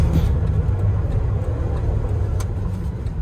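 A rare second-generation Dodge with a manual transmission, its engine rumbling loud and close from inside the cab at a steady low drone while driving through the gears.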